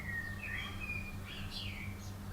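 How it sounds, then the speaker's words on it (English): Faint bird chirps and short whistled calls from outdoors, a few brief phrases over a steady low indoor hum. "I can hear birds."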